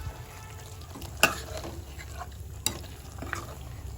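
Yogurt being stirred into cooked mutton in a pan, soft sizzling and scraping under a low background, with a few sharp clinks of a spoon against the pan.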